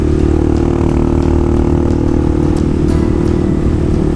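Tao Tao TBR7 dual sport motorcycle ridden on asphalt, its engine a loud, steady drone with wind rush and light clatter throughout, close to the rider and with no speech.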